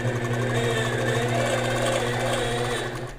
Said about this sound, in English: So I'm going to stitch enough to get my machine out of the way.